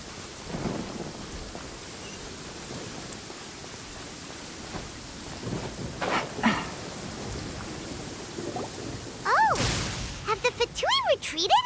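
Thunderstorm in the video game Genshin Impact: steady rain hiss with low rumbles of thunder, building toward the end, where a voice speaks over the storm.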